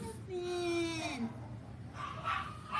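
Phineas, a blind dog with detached retinas, lets out a high, drawn-out whimpering whine that rises and falls over a couple of seconds, followed by softer whimpers under faint background noise.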